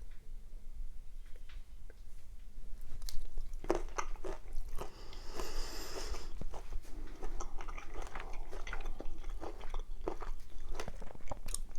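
Close, wet chewing and crunching of spicy Szechuan shrimp with peppercorns, a steady run of irregular bites and smacks lasting several seconds with no talk.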